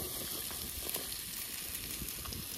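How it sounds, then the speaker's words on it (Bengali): Sliced onions frying in a pan on an outdoor village stove beside a pond, a constant soft sizzle with faint stirring ticks now and then, fairly quiet and with no talking. "চল পেঁয়াজটা দিয়ে দিচ্ছি আগে।"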